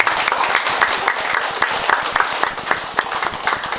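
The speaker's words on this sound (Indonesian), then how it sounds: "berikan aplaus yang meriah kepada Pak Wakil Bupati Bintan" An audience at a maritime governance seminar gives a warm round of applause for a deputy regent, dense steady clapping from many hands that fills the room throughout.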